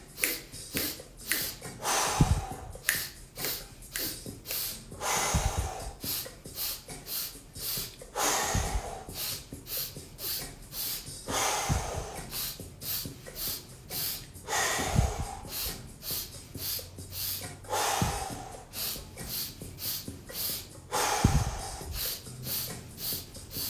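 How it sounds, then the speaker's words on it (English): Forceful exhales in a pranic breathing exercise, sharp nasal bursts of breath repeated rapidly in a steady rhythm, with brief pauses between rounds, close and prominent. "Remember to lift your chest and then make it a powerful exhale."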